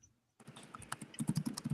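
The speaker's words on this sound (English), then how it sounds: "We can just hear you typing." Rapid clicking keystrokes on a computer keyboard after a short silence, close and moderately loud in an irregular typing rhythm with no talking.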